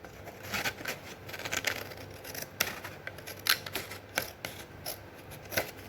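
Scissors snipping a 1.5 cm strip from a sheet of card for a lock card craft, a quick run of crisp, close cuts in a steady irregular rhythm, with no voices.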